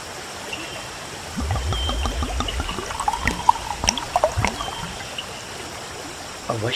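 Water trickling and flowing along a riverbank in a dense forest, a steady murmur with small splashes and drips at close range, no voices.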